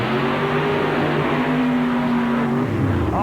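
Mud racing truck at a 1992 NMRA mud race in Butler, Pennsylvania, its engine roaring loud and steady through a run, the droning pitch holding then dropping as it finishes.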